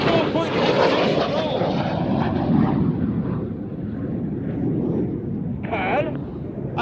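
Aerobatic display aircraft fly over an air festival, producing a loud, continuous engine roar that slowly fades as they pull away, with a commentator talking over it.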